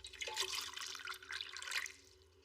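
Water is poured in a pharmacy, a soft, close trickle and splash that runs for about two seconds and then tapers off.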